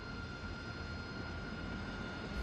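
A steady, dense roar from an AV-8B Harrier jet engine with water injection engaged, heard in the DCS flight simulator, holding constant and loud throughout with a faint high whine on top.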